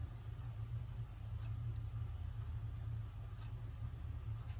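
A steady, low electric hum from the motor of a Sessions ship's wheel clock running slowly, faint and continuous for the whole stretch with no talking.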